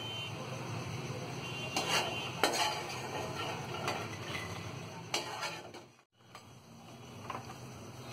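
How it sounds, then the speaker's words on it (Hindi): Ghee-fried makhana being scooped out of a pan onto a plate, with several sharp clinks and scrapes of a metal spoon against the cookware over a low kitchen hum, ending in a brief hush. "मखाने हमारे फ्राई हो गए हैं,"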